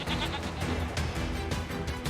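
Sheep bleat repeatedly in a sheep-herding minigame from Nier Replicant, a video game. The cries sit inside a dense, continuous mix of game sound that stays loud for the whole stretch.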